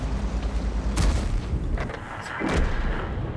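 Video game gunfire, a series of muffled shots spaced irregularly over a steady loud rumble of game noise, each report short and booming with a few closer cracks near the end.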